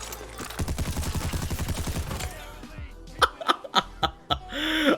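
Custom gunfire effects from the Terminator T800 tracer pack in Vanguard Warzone: a loud, rapid automatic burst for about two seconds, then several separate sharp shots and clatter.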